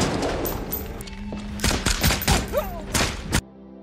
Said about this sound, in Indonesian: Giliran Mandy dan Meg yang terlibat kontak senjata dengan pasukan musuh